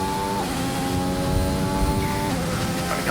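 Race car engine on a Bahrain circuit lap in a sim racing game, a steady high-pitched whine that holds its pitch, then drops and climbs again near the end as the car shifts, loud and close with no talk.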